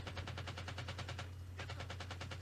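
Rapid machine-gun fire from a Vietnam War combat scene in the 1987 film Full Metal Jacket, with steady bursts of evenly spaced shots, a brief pause, then another volley, loud over a constant low hum.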